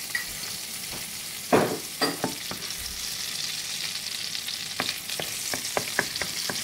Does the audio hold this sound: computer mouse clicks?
no